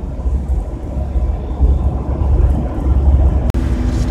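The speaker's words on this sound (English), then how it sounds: "Just thought I'd go ahead and film this segment here of driving through the mountains." A van climbs uphill on a mountain road, its engine droning low and loud beneath heavy wind and road rumble, close up with no talking and a brief sharp click near the end.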